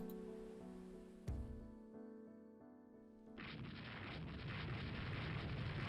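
In the naval strategy game Rule the Waves 2, a 4-inch coastal battery exchanges fire with warships: a sharp gun report, then a rumbling wash of explosions and surf-like noise swelling loud and sustained.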